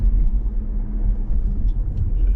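A Mercedes C 300 de diesel, a 2.2-tonne car in sport mode, accelerates out of a village with a steady, heavy low engine rumble that stays loud and even throughout.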